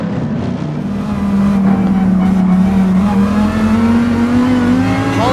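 Race cars battling wheel to wheel around the Nürburgring in a DTM event in Gran Turismo 7, including a Porsche, with engines droning loud and steady and the pitch slowly climbing as they accelerate together.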